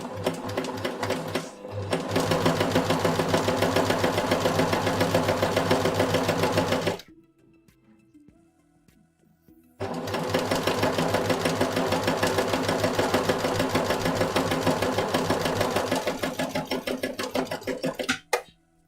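Sewing machine stitching pin-tucks on a shirt, needing oiling: two long runs of fast, even mechanical chatter, loud and close, separated by a few seconds of near silence with faint handling noise.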